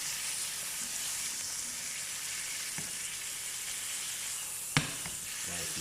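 Filet mignon steak searing in a hot pan, a steady broadband sizzle of frying held at an even level throughout, with a couple of brief sharp spits or pops near the end.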